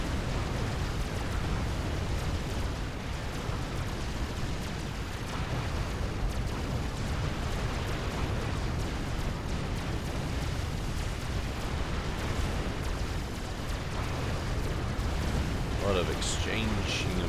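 Two groups of units trade fire in the strategy game Forged Alliance Forever, a continuous dense wash of explosions, booms and gunfire running throughout under a commentator's talk.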